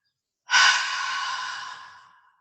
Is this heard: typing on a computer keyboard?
no